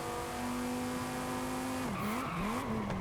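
Tires squeal hard on a racing car braking into a corner in Forza, with a steady engine drone that suddenly breaks into a wavering, rising-and-falling skid near the end, loud and close.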